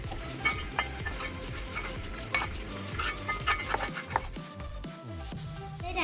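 Garlic pickle being spooned from a container into a small bottle, with repeated close scraping and clinking of a spoon against glass and metal in an irregular rhythm.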